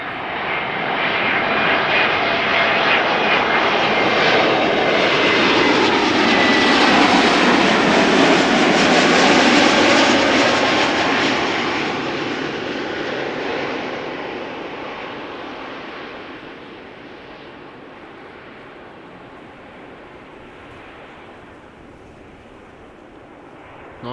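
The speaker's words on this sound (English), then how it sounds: "Next up, JetBlue flight 631 arrived from Boston, Massachusetts." A JetBlue Airbus A321neo arriving from Boston lands at Amsterdam Schiphol, a loud, close engine roar that swells to a peak and then fades steadily as the jet passes and rolls away, heard alone without talk.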